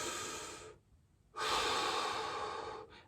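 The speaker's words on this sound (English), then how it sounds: "Watch my hand, I'm gonna breathe through my diaphragm." A person takes deep diaphragm breaths: a long, loud airy exhale, a short quiet pause, then another long strong breath, close to the mic with no talking.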